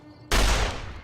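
A loud, sudden gunshot in Fallout: New Vegas bursts close and sharp, its heavy blast trailing off into a short echoing tail.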